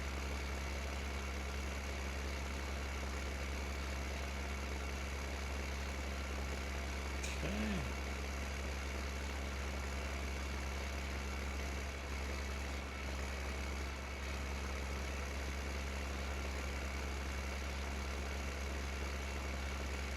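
Steady low engine idle of a tractor in Farming Simulator 15, a constant rumble holding throughout with a brief higher whine partway through and no talking.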